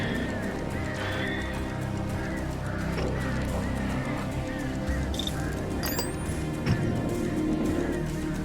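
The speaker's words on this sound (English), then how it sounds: "Birds." Birds chirp and call over a steady low rumble of ambient wilderness sound in the video game Alan Wake Remastered, with repeated short trills and one brief rising whistle near the end, no talking.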